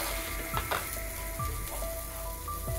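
Onions and cauliflower frying in a pan, a steady close sizzle with a few soft scrapes and clinks of stirring throughout.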